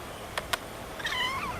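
A pet cat gives a short rising meow near the end, preceded by two quick soft taps, nearby and fairly clear against quiet room noise.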